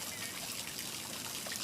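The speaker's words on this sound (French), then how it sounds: "Mais qu'est-ce que c'est que toute cette eau?" Broadband watery trickle in a cartoon scene, a steady soft stream of flowing water with no talk over it.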